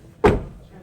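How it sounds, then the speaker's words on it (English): A Toyota Corolla car door shut firmly, a single solid thud with a brief low rumble that fades quickly, close by and alone. "I'm going to shut this door."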